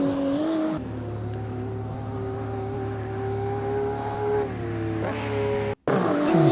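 BMW M2 CS race cars lapping Lime Rock Park in a racing sim game, engines droning steadily with rising and falling pitch as the cars accelerate, loud and continuous with a brief cut near the end.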